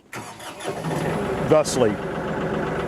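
A tractor engine cranks over and catches, then settles into a steady, loud idle as someone talks over it.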